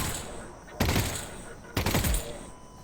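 Two bursts of pistol fire in the video game Half-Life: Alyx, each a rapid cluster of sharp loud shots, spaced about a second apart over low background hum.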